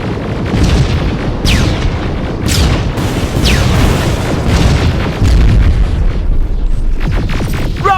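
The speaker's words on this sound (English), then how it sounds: "Rockets! They're heading this way!" Heavy rocket explosions boom one after another in the Terminator: Resistance video game, loud and dense with deep rumble, sharp bursts and falling debris whooshes running continuously through the scene.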